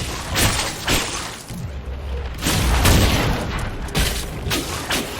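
Wooden crates smashed apart in Dragon Age Inquisition, a series of loud crashing, splintering impacts with booming thuds spread across several seconds over game ambience.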